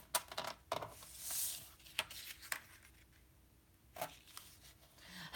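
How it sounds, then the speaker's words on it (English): Cardstock folded along score lines and burnished for a beginner mini album, close crisp creases and sharp taps with soft rubbing swishes between them, quiet and alone. "So let's fold on our score lines and burnish."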